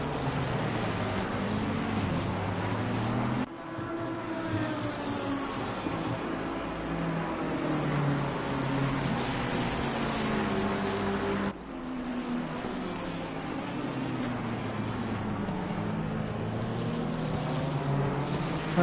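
Race car engines at the Red Bull Ring, with Piston Breakers cars running very close on track. Loud, sustained droning roars rise and fall in pitch, with two sharp cuts where the engine sound shifts.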